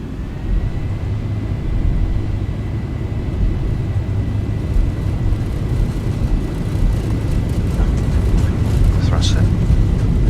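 Boeing 737-800 engines in X-Plane 11 spooling up for takeoff, a loud, steady low roar with a faint rising whine, under occasional talking.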